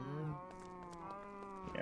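A Minecraft cow moos once in a long, drawn-out, low tone, close and clear with nothing else over it.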